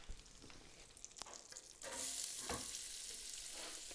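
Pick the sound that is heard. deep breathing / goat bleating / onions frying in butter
onions frying in butter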